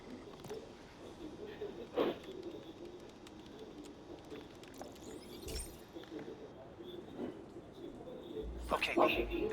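Pigeons coo at the bird feeders of a lab in the video game Marvel's Spider-Man, soft repeated calls with a few chirps over a low ambient bed, moderately near, under intermittent game voices.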